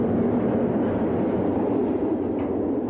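A freight train crosses a metal railway bridge, producing a continuous loud rumbling roar with dense low-mid rattle that holds steady throughout.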